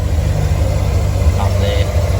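A Holden VT Clubsport with a 5-litre V8 idles nearby with a steady low rumble, and exhaust leaks add a ticking roughness to it.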